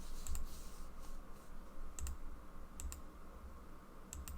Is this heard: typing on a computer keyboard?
yes